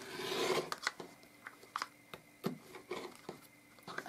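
Fabric being trimmed to straighten an uneven sewing block, a series of soft, raspy cutting strokes and scrapes in irregular rhythm, close and quiet with no talking.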